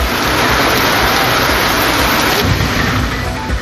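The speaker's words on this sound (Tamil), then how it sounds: "திருவாரூர் மாவட்டத்தின் பல்வேறு இடங்களில் வெளுத்து வாங்கிய கனமழை." Heavy rain pours across Tiruvarur district, a dense, steady roar of broadband hiss with no pauses and no voices.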